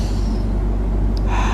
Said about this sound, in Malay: Tarik nafas.